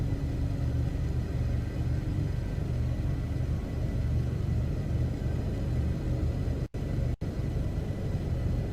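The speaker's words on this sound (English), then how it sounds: "we're gonna just hunker down and wait for that storm to pass" A storm rumbles in the video game No Man's Sky, a steady low roar filling the scene with constant wind-like noise and no voices.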